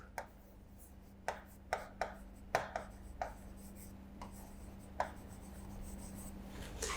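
Pen writing by hand on paper, a series of short sharp scratchy strokes and taps spaced irregularly, close and fairly faint, with a steady low hum beneath and no talking.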